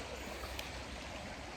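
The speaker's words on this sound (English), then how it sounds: "I'm at this beautiful river" A river flowing in West Yorkshire, a steady, even wash of running water close by, with no voices over it.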